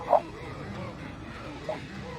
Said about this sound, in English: Harley, what is it? What is it, little dog?